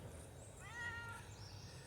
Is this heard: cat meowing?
yes